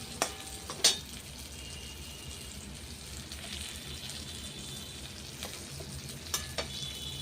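Pieces of fesa fish fry in a pan with a steady, low sizzle, broken by a few sharp crackles and pops, with no voices.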